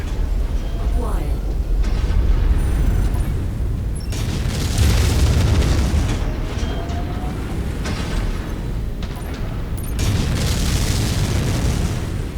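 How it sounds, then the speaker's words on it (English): A mech's reactor blows up in Mechwarrior 5 with deep booms and rumbling bursts that recur over several seconds among other game sounds. "That Hill's reactor is about to explode."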